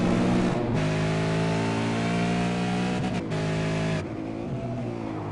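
A V8 Supercar engine in a sim racing game at Watkins Glen, revving hard and climbing through the gears with quick drops at each shift, loud, steady and close with no talk.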